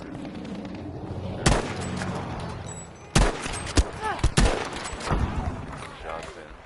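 Gunfire rings out in the shooter game Battlefield V as several sharp loud shots crack in quick bursts, some of them close and some farther off, mixed with game noise and short bits of talk.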